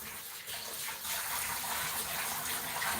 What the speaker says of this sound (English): I'm going to add the vinegar water